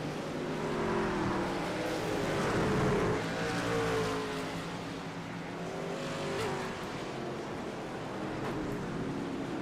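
Race trucks roar around the Knoxville dirt track, engines droning steadily with rising and falling passes that swell loud and then ease off, no talk over them.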